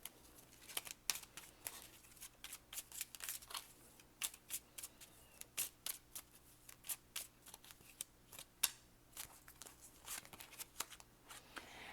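Lenormand fortune-telling cards are shuffled by hand in a steady run of quick papery riffles and slaps, close and fairly soft, with a low hum underneath and no talk.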